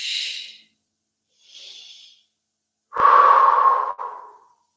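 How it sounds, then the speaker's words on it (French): Deep breaths from a patient during a chest-opening exercise, heard alone: two faint airy breaths in quick succession, then a louder, longer inhalation lasting about a second, which ends with a brief trailing exhale. "Inspire doucement mais profondément."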